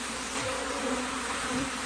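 Honey bees buzz densely around their queen, a steady close-up drone of many wings with small shifts in pitch and no voices.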